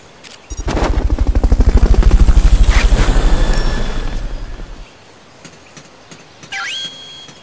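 A helicopter in Metal Gear Solid Peace Walker sweeps past with a loud, rapid rotor chop that rises and fades over several seconds, followed by a few faint game effects and a short rising electronic tone.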